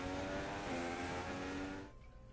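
F1 race car engine from the game F1 2016 screams loudly at steady high revs with a harmonic whine for about two seconds, then cuts off sharply into near silence.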